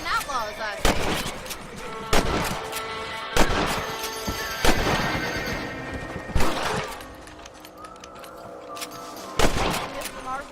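Rifle shots ring out in a Red Dead Redemption hunt for rabbits, a series of loud sharp cracks spaced a second or two apart, each with a ringing tail over an ambient game soundscape and music.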